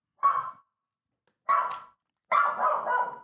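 A dog named Farley barks three times, close and loud, with two short single barks and then a longer, drawn-out double bark, separated by silence.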